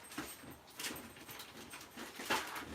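Bella the dog whimpering indoors, soft intermittent whines and snuffles in a few short bursts, faint and close, with no talking over them.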